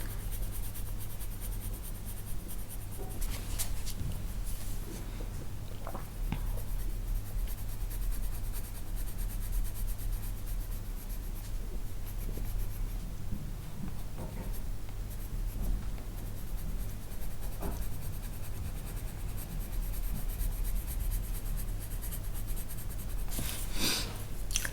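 Coloured pencil, including a permanent green, rubbed steadily over textured colouring-book paper to fill the white crevices, giving a continuous soft scratchy scraping with small strokes and pauses, close and alone over a low background hum.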